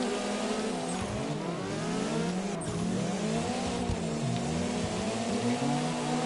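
Tires squeal steadily in CarX Drift Racing as a car slides through a long drift, a continuous wavering screech over a loud engine drone with no talk.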